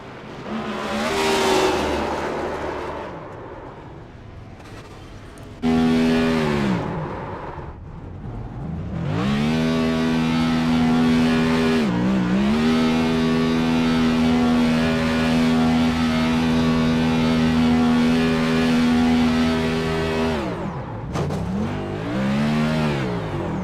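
Race car engines roaring and revving on the COTA circuit in a racing game, with sustained high-pitched drones that dip and climb between gear changes, loud and close, and no speech.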